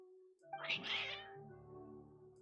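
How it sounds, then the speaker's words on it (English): Cats meowing in the video game Genshin Impact: one clear, drawn-out meow swells up after a brief pause, then trails off into a fading tonal hum, fairly quiet overall. "Your cats seem pretty worked up."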